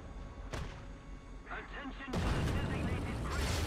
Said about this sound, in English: Something is shooting right there.